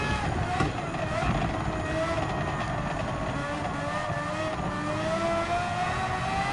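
Race car engines in the racing game Gran Turismo 7, including a 2018 Ford GT Race Car, whine continuously at moderate volume, pitch rising and falling with gear changes throughout.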